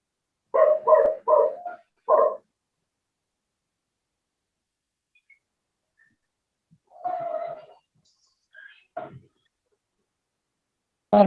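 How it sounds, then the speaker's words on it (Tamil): A dog barks in the background of an online call: a quick burst of four barks, a pause, then one more. Later come a few scattered, quieter barks and yips, all fairly loud and clipped against near silence. "அந்த நாய் சவுண்டு நிறைய இறைச்சல் வருது"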